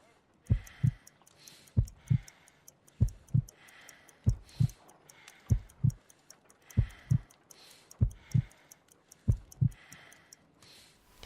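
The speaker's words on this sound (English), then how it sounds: "I need to concentrate and count the heartbeats." Slow, steady heartbeat in a Sherlock Holmes video game, paired low thumps repeating about once a second over a soft ticking background, clear and close with no talk.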